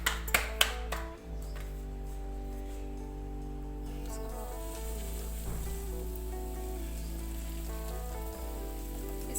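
Paratha sizzles on a hot tawa griddle, a steady soft crackle and hiss, with a few sharp snapping pops at the start.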